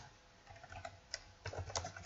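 A short, quiet run of keystrokes as code is typed on a computer keyboard, a handful of light taps clustered over two seconds, with no voice.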